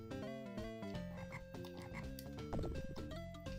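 Repeated synthesized frog croaks from The Lion King on the Sega Genesis, sounding alongside steady, loud game music throughout.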